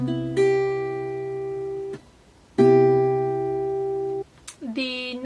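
Guitar chord fretted at the 8th and 9th frets, strummed twice and left to ring clearly for about two seconds each time, with a short speaking voice at the end.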